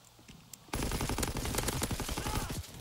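A sudden, sustained burst of rapid automatic fire erupts in a Call of Duty pro league match, dense and loud, firing continuously through a wall after a quieter lead-in.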